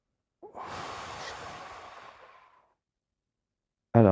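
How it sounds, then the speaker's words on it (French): A long, deep breath drawn in audibly, then released in a slow airy exhale lasting about two seconds before silence, close and clear, with a voice starting at the very end. "Une grande inspiration"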